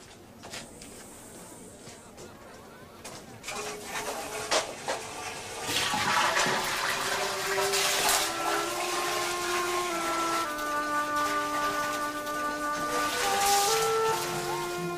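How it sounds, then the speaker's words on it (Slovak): Water pours and splashes steadily into jars, starting quiet and growing into a continuous rushing fill from about the middle onward, close and fairly loud. "Naplňte nádoby vodou."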